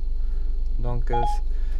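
Ford Sync 3 infotainment system placing a call on its own: a short burst of telephone dialing tones, several rapid beeps in close succession over a steady low hum, with talking in the background.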